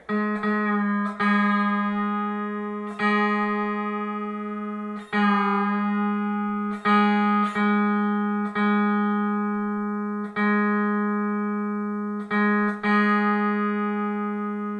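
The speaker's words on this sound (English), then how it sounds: "I'm going to tune my 6th string, which is also a G sharp, to my 3rd string." Sustained pedal steel guitar notes plucked one after another, each ringing and slowly decaying, with brief pauses between as the G sharp 6th string is compared with the 3rd string for pitch.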